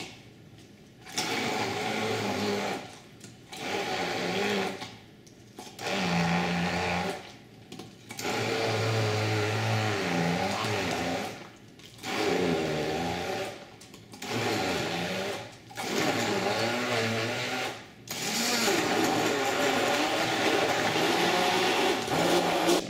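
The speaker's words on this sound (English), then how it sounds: "I'm going to blend this down" A blender purées red salsa made with squeezed lime juice, whirring loudly in repeated bursts of several seconds separated by short pauses, ending in one longer continuous run.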